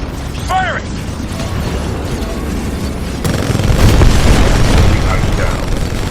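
In Titanfall 2, a Titan's weapon fires and an enemy Titan is destroyed: mechanical whirring gives way midway to a louder, sustained blasting roar, with a voice heard briefly early on.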